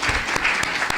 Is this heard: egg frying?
no